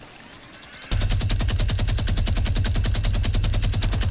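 Rapid automatic gunfire in the Fortnite battle royale game, a loud sustained burst of evenly spaced shots starting abruptly after a short quiet moment and continuing without pause.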